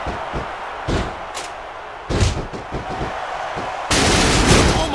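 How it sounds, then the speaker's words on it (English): Wrestling video game WWE SmackDown vs Raw 2006 on PS2: a wrestler is struck with a ladder, giving several loud thuds and slams in quick succession, followed by a sustained burst of crowd-like noise. "he's using that ladder as a weapon"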